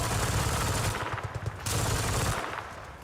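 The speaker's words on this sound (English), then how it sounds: "That is a lot of heavy fire." Heavy automatic gunfire in Battlefield 6 pours out in dense, overlapping bursts, loud and close, with a brief lull midway before the shooting resumes.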